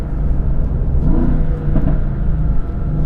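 A sports car engine revs hard in race mode, a loud close rising and falling burst of exhaust roar heard alone with no talk.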